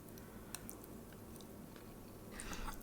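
Quiet, close chewing of Chick-fil-A parmesan meal kit pasta, soft wet mastication with a few small crisp clicks and a slightly louder bite near the end.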